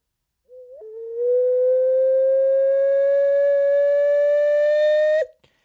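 An ocarina holds a single sustained C note, blown from soft to stronger breath pressure. The pure, whistle-like tone rises slightly in pitch and grows brighter for about four seconds, then stops abruptly. It is clear and close, with no talking.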